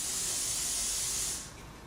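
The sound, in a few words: aerosol spray of toner-blackening solvent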